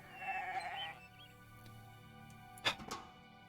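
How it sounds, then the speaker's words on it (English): A goat in the video game The Stillness of the Wind gives a short nasal bleat near the start, followed by quiet game ambience and a couple of soft clicks. "Get out of my way, goat."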